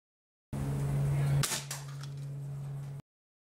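A single sharp crack from a homemade pre-charged air rifle, close and loud, followed by a brief hissing release over a steady low hum.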